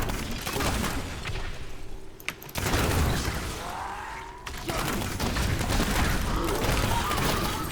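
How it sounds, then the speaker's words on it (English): Demon Hunter's Evasive Fire volleys in Diablo 3, a dense run of sharp mechanical shots and impacts that keeps going the whole time, with a short gap partway through, loud and busy with no talking. "We'll just do it with evasive fire then"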